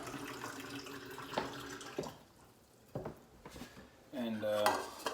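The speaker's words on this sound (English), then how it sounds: "For right now though, I'm gonna finish up my dishes." Dishes being washed at a kitchen sink, with plates, pots and cutlery clattering against each other, sharp clinks scattered among softer rattles and the background wash of water.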